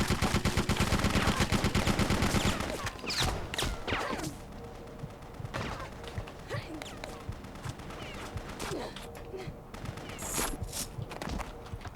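Gunshots from a gun in Bloodrayne, a dense rapid volley at first that breaks into scattered individual shots and impacts amid busy game noise, with faint voices underneath.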